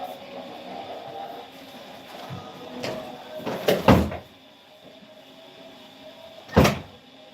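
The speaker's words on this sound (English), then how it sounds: "hold on, let me close this door" A door being pulled shut indoors, with a few knocks and rattles, then a firm thud as it closes, and a second sharp knock a few seconds later, close and fairly loud.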